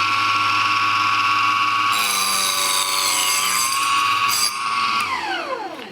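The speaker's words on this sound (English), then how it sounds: "I notice you go nice and slow because sometimes a chop saw will kick wood out" A chop saw slices slowly through wood for a picture frame, its motor whining loudly and steadily as the blade bites, then pitching down and spinning to a stop.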